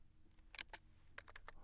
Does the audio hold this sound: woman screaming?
no